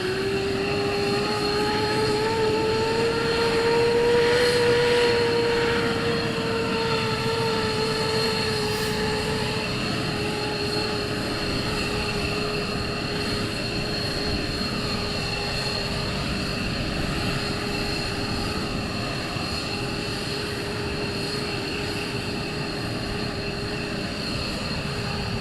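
Military jet aircraft engines idling and running at RAF Lakenheath, a continuous loud high whine over a deep roar that holds steady for the whole stretch with slight pitch shifts, close by and with no talking.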